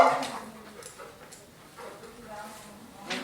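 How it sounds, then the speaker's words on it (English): A dog barking and whimpering during a training session, a few short yips at moderate distance mixed with a handler's voice. "There goes the barking again"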